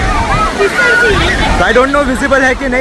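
The Niagara Falls waterfall roars as a broad, steady wash of rushing water close by, with people talking over it throughout.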